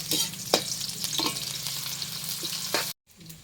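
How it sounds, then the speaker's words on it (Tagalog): Garlic and onion sizzle while being sautéed in a hot pan, a steady crackling fry broken by several scrapes and stirs of a utensil, ending with a brief cut in sound. "Igisa na tayo ng ating mga sangkap."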